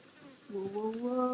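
Flies buzzing in the Resident Evil 4 demo video game, a droning insect hum that swells louder halfway through and holds steady, close and alone over quiet background.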